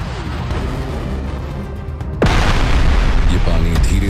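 A deep, rumbling meteorite impact explosion rolls steadily as a dense low roar, then a sharp louder blast strikes midway and the heavy booming continues more intensely afterward.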